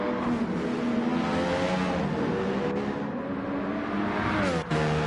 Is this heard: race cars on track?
yes